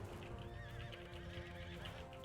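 In the medieval combat game Mount and Blade 2, a horse neighs with a long wavering whinny over a dense bed of battle noise, hoofbeats and clatter, loud and continuous.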